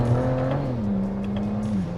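A BMW with a ZF6HP transmission running XHP flash software accelerates hard, its engine note climbing and then dipping briefly at a gear shift, heard steadily from inside the car.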